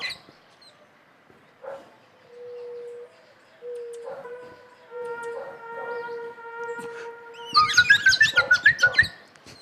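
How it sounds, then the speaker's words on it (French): A female blackbird sings a series of calls: scattered chirps and held tones early on, then a burst of rapid, bright, repeated notes near the end, close and clear against quiet. "C'est une femelle merle."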